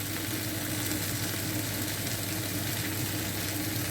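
An egg fries in a pan for a one-pan cooked breakfast, giving a steady, dense sizzle that stays even and close throughout with no talking.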